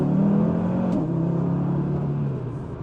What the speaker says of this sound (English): I love that 5-cylinder